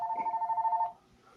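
A telephone rings with a single warbling electronic trill lasting under a second, fairly close and clear, then cuts off into near quiet.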